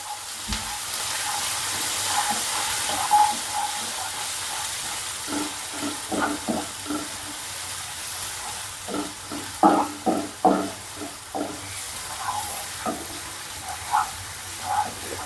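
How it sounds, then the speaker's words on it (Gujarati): Chopped onion sautéing in oil with toasted cumin on medium heat, a soft steady sizzle with intermittent stirring and scraping clicks, close, no talk. "ડુંગળીનો કલર ચેન્જ થાય એટલે આપણે એને સાતળતા રહેવાનું."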